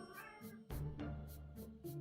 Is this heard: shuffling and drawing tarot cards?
no